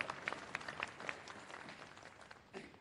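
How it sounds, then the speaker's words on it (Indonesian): An audience at a gubernatorial election debate in NTT claps for all the candidate pairs, a soft, fairly distant spread of applause that fades over a few seconds. "kita berikan aplaus kepada seluruh pasangan calon"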